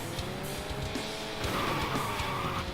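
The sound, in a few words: car power sliding in a PS1 racing video game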